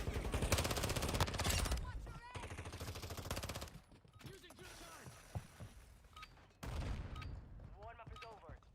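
Dense bursts of automatic gunfire in a video game war zone, loud sustained volleys broken by short pauses and scattered single shots, with game voices briefly speaking between the firing.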